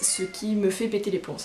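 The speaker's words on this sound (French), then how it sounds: "c'est mon chat qui miaule, vous le connaissez tous" A pet cat named Lucifer meows in short, repeated cries, close by and mixed under someone talking over it.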